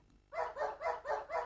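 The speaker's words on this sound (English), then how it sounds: "the only sample anyone seemed interested in using was the barking dog" Five evenly spaced barks from a sampled dog played back on a Fairlight sampler, each one identical and punchy, repeating in a steady mechanical rhythm with no other sound.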